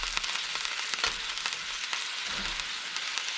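A one-pound hamburger patty sizzles steadily in a pan sprayed with olive oil, a close, continuous frying hiss with small pops and crackles throughout.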